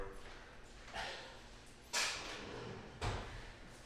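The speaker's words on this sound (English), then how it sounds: "Throw them in the drawer." A drawer is opened and shut in a quiet meeting room, giving three soft sliding thumps about a second apart over faint room hum.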